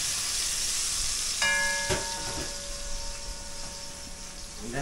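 Onion hitting hot oil in a pan for a batch of spaghetti meat sauce, a steady broad sizzle with a sudden crackle as it goes in, close and fairly loud, with a brief tonal whine partway through.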